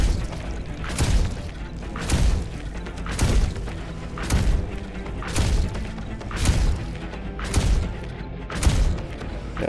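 A gun in a tower defence game fires fiery bullets in a steady rhythm of heavy booming thuds, each shot landing about a second apart with a fiery whoosh, loud and close, with no talk over them.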